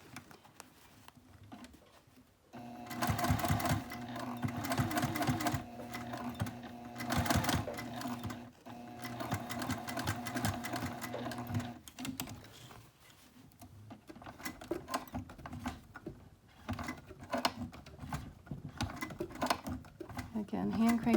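A domestic sewing machine stitches fabric for a sling in fast rattling bursts, starting, stopping and starting again for repositioning, with quieter handling and low speech between runs.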